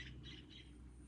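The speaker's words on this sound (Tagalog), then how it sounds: "naririnig nyo po yung ibon" A bird calls close to a window, giving three quick, faint chirps in a row over a low background hum.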